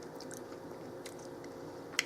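A bite of hot homemade cranberry chutney with lemon and spices is chewed quietly and close up, with soft squishy mouth sounds and a small click near the end.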